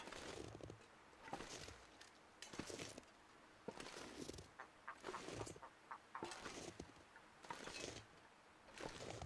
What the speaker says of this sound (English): Snow chicken